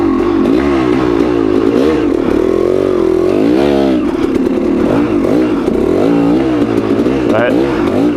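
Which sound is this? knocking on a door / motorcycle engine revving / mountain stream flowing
motorcycle engine revving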